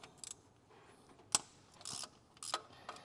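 Socket and extension bar on the cylinder head bolts of a Nissan X-Trail QR25 engine, giving scattered metallic clicks and ratchet ticks, close and fairly quiet, with a few sharper clacks and no talking.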